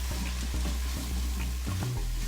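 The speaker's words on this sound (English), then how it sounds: "you can probably hear this sizzling" Chicken sizzling on the saute setting of a quick cooker, a steady close crackle with occasional stirring scrapes and low hums beneath it.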